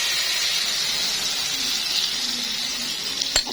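Vegetable omelette mixture hits hot oil on a stove and sends up a loud, steady hiss of frying. The sizzle stays close and even throughout, and a small clatter sounds near the end.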